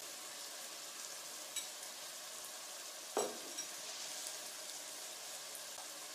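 Beef and tomato paste sizzle steadily in a pot for a Greek youvetsi, a soft continuous frying hiss with a couple of brief scrapes of stirring, fairly quiet and close, no voices.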